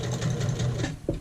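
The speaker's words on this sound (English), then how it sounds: "Let's end with a couple of back stitches." A sewing machine runs a short burst of back stitches along an apron strap, a steady close whirring that pauses briefly and ends with a small clunk near the finish.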